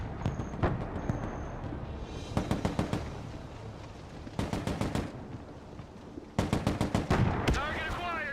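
Bursts of automatic gunfire and sharp shots in the Broken Arrow real-time war game, several rapid volleys spread across the stretch over a low battlefield rumble, with a brief electronic tone early and a faint voice at times.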